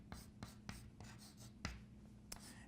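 Someone writes on a board, producing a series of crisp, close tapping and scratching strokes at an uneven pace, quiet and with no talk over them.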